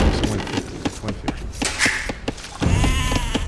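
Sheep bleating in the Age of Empires II: Definitive Edition strategy game, several short bleats spread over a busy background of game sound effects and ambient noise, no talking.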